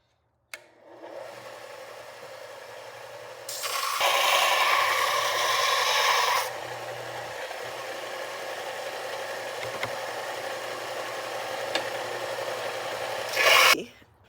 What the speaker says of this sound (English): We are going to grind this a little bit more, just to refine the bevels and get that little fat spot